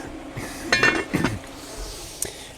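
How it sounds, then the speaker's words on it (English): Metal lid set back onto a cooking pot of chicken soup, a few close clinks and rattles in quick succession, followed by one faint tap. "Let me put my lid back on."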